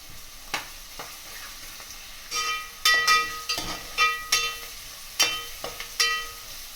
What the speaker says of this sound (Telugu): వేసేసిన తర్వాత అవి కొంచెం నూనెలో వేగించుకోవాలి